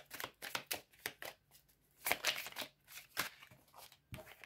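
Tarot cards are shuffled for a reading in a series of quick, crisp riffling bursts and soft flutters. The sound is close and quiet, with no talking.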